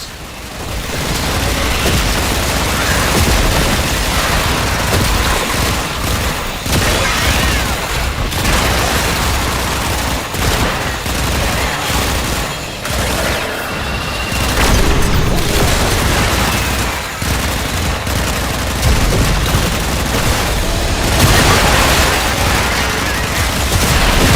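Constant loud gunfire and repeated explosions from the video game Warframe, dense bursts and booms overlapping with no pauses throughout.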